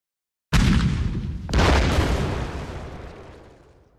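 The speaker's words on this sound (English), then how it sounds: "guy's just going to get blasted by the artillery" Artillery fire in the WWII card game KARDS: two loud, close explosions about a second apart, each a sharp booming blast, the second trailing into a long rumbling decay with no voices.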